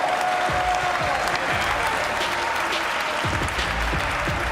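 A crowd at the Simple Session 2022 skateboarding final applauds and cheers. The clapping is dense and sustained throughout, with a muffled announcer voice running underneath.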